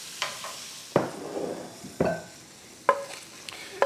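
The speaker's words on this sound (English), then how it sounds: "I will only saute this pepper until it's tender crisp" A bell pepper sautéing in a hot pan for a freezer-meal dinner, giving a steady sizzle broken by four sharp stirring scrapes and clatters, close and alone with no talk.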